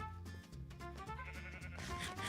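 Sheep bleating in Minecraft over steady in-game background music, a few short overlapping bleats close by and fairly loud across a couple of seconds.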